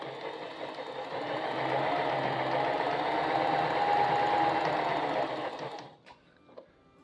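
A Janome Excel 18 sewing machine stitching fabric, a steady whirring buzz of the motor and needle running continuously for about five seconds before stopping, followed by a few faint mechanical clicks.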